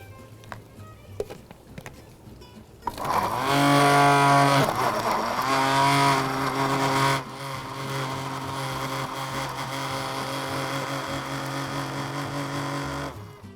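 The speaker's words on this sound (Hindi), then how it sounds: "थोड़ी सी खजूरें और जी तरबूज ब्लेंड करेंगे इसको।" An electric blender whirs through watermelon and soft pitted dates, starting after a few seconds of light clatter, then roaring loudly and droning at a slightly lower, steady pitch to the end.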